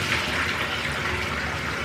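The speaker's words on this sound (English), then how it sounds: "and wash my face" Warm water runs and splashes steadily as a face is washed, a continuous close rushing sound with no talking.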